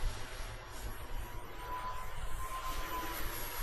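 A gen 2 F22 Raptor model jet flies overhead with a steady, broad whooshing engine roar that holds at a moderate distance throughout.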